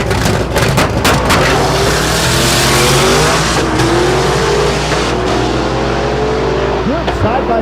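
Drag race cars, including a big single-turbo Pontiac GTO with a six-speed manual, roar side by side down the strip at Thunder Valley in Noble, Oklahoma: a loud, sustained, close engine blare with rising revs throughout.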